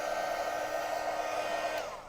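Hair dryer used as a heat tool to dry junk journal paper, a steady close whooshing blow with a constant motor hum that tapers slightly at the end.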